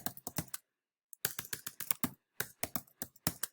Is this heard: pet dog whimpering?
no